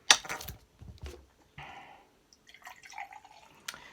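KA Black Cherry fizzy drink pours from a bottle, giving a close, brief liquid splash followed by soft fizzing and bubbling with a few faint clinks.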